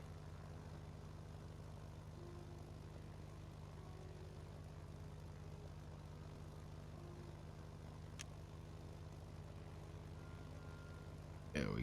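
An airplane in the video game Sky passes close overhead as a steady, low, faint engine drone that holds for about twelve seconds without talk, with one brief click partway through and a soft bump at the end.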